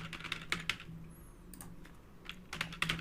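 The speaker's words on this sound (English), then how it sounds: "let me start typing over here" Rapid keystrokes clatter on a computer keyboard in bursts, close and fairly loud, with brief pauses between flurries and no speech.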